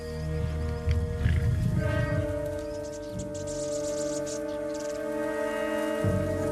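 A lion roars in the wild, giving deep, rumbling, drawn-out calls that rise and fall over a low continuous hum, heard close and fairly quiet without any voices.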